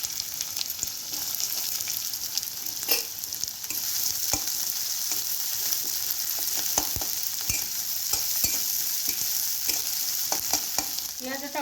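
Onions fry in hot mustard oil in a pan, giving a dense continuous sizzle with scattered crackles and occasional stirring scrapes, loud and close.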